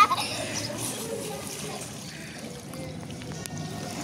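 Water sloshes and trickles continuously as someone bathes in a pond, close and moderately loud, with small splashes throughout and a slightly sharper burst at the start.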